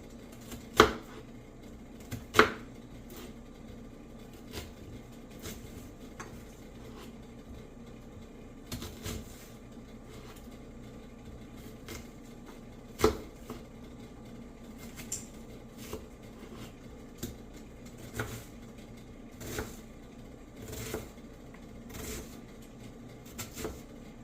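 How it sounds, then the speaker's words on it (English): Knife dicing an onion on a cutting board for curry butter beans, with irregular sharp taps scattered through a quiet kitchen, some louder thumps among softer chops. "So we'll just get this onion diced up"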